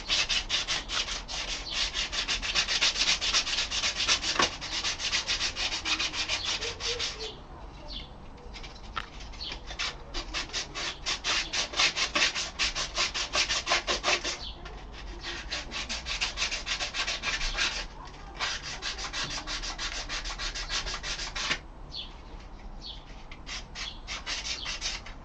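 Rough, steady rasping of offcut pieces of wood rubbed against pallet wood, continuous scraping strokes with a few brief pauses, close and fairly loud, with faint bird calls in the background.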